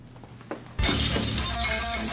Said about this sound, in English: Greg broke more glass once again, so I guess I'll have to clean it up.